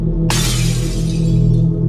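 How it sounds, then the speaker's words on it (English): Glass shattering loudly and close, one sudden crash followed by a bright spray of falling shards over a constant low hum, no voices. "We heard breaking glass."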